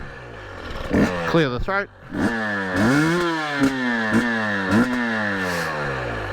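Husqvarna dirt motorcycle revved by its throttle: repeated rising and falling engine bursts, close and loud, with a rider's short voice over it.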